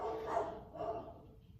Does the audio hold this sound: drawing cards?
no